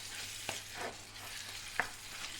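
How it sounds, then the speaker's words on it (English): Marinated mutton fries with onions in a bhuna masala, a quiet, even sizzle broken by two sharp clinks of a stirring spoon, with nobody speaking. "Fry the meat until it takes on a splendid color, about 5 minutes"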